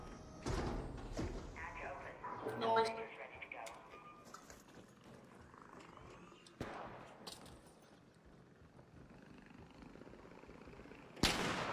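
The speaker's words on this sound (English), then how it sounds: "Oh, they're shooting each other." Gunfire exchanged between players in the extraction shooter ARC Raiders, heard as a few distant, sporadic shots and thuds with a sharp nearer bang at the end, while people talk over the top.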